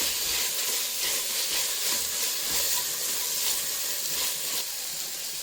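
Mint and coriander leaves frying in hot oil for Andhra-style chicken biryani give a steady, loud, close sizzle and hiss, with faint stirring scrapes and no talking.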